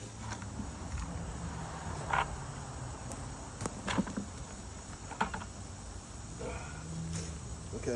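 Dense insect chirring and buzzing fills an organic vegetable garden, a steady faint bed of cricket-like trills with a few brief close ticks and rustles, no voices.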